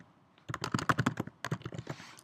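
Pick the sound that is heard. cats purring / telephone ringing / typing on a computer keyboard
typing on a computer keyboard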